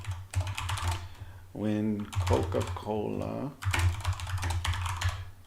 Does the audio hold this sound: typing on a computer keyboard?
yes